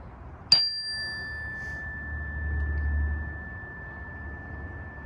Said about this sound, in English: So listen for the chime.